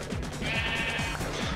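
A Minecraft sheep bleats loudly and close by in a few wavering, nasal cries, with no talk over it.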